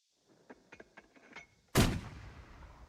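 In a video game, an 80mm mortar fires with one loud, heavy boom and a long rumbling decay, after a scatter of small clicks and distant pops.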